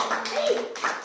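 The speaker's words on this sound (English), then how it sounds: "Claps, claps." Children clap in a classroom, a short burst of handclaps close by, mixed with a teacher's voice and classroom chatter.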